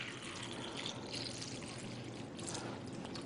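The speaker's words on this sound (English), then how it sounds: "we're just going to simulate that by pouring some tap water in here." Tap water pours steadily into a container in a continuous, even splashing stream, faint and alone with no talking.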